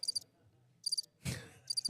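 A cricket sound effect plays three short, high trilling chirp bursts spaced evenly apart, with a dull thud and brief low noise between the last two.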